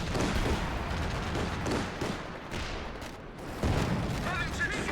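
Machine gun fire rattles in rapid bursts in a competitive video game match, mixed with explosions and busy battle noise under a commentator's talk.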